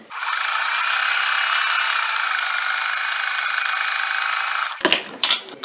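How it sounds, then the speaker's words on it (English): A sewing machine runs steadily for several seconds, stitching a crazy quilt block with clear thread, its fast, even whir loud and close. It stops, and a few brief handling clatters follow. "Now I'm going to go along and stitch on the other side."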